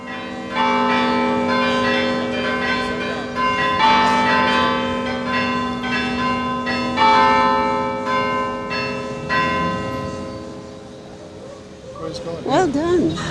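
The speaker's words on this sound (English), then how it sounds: "They came down, and they're installing the bells. We had a small example" Newly installed chime bells in the Cathedral of the Immaculate Conception ring out in a steady sequence of loud, resonant strikes whose tones overlap and sustain; near the end a voice speaks briefly over the fading ring.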